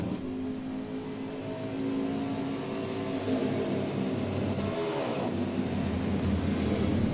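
Race car engines idling and droning behind the pace car at Daytona International Speedway in NASCAR Heat 4, a steady, loud, humming engine tone that swells slightly without pausing, with no talking.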